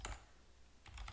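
Short bursts of keystrokes on a computer keyboard as a name is typed, two quick clusters of clicks separated by a brief pause, close and clear.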